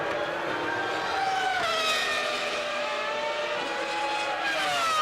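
Formula One cars racing at the 2000 Hungarian Grand Prix: high-pitched engine whines rise and fall as several cars pass close by, overlapping one another in a steady roar.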